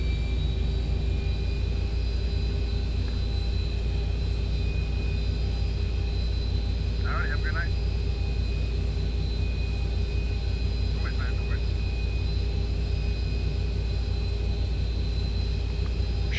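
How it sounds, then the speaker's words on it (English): Number 2 jet engine of a Zibo 737 in the X-Plane 12 flight simulator spooling up during a cockpit start, a steady whining hum with a high tonal drone that runs continuously under occasional talk. "I'm going to crank on the number 2 engine. Okay, that's cranking up."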